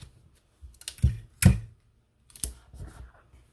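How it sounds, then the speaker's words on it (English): Scissors trim the end of a ribbon during a craft project, giving a few sharp, close snips and clicks with short quiet gaps between them. "And I'll trim the end of the ribbon"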